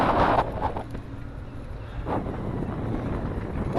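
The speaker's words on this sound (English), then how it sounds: "wow, the wind is pushing so hard" Strong wind buffets the microphone while biking outdoors, a loud continuous rumbling roar with gusty surges throughout and no voice.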